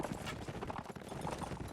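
Horses' hooves clop steadily and faintly in a medieval battle video game match, a dense galloping rhythm of many mounts under light background ambience.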